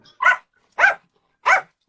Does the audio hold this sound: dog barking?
yes